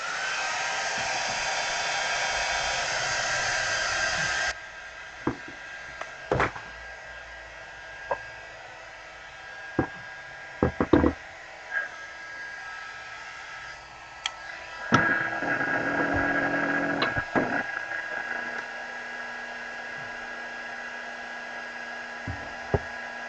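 A hair dryer blows steady and loud for about four and a half seconds on a craft project, then cuts off, leaving scattered taps and knocks of handling; later a softer whooshing rises briefly.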